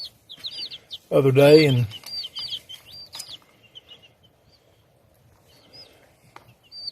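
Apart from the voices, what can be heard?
baby chicks chirping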